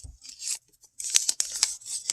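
A sheet of paper is creased and folded by hand into an origami ninja star, giving close, crisp rustles and sharp crinkling snaps in short bursts separated by brief pauses.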